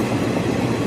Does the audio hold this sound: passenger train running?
yes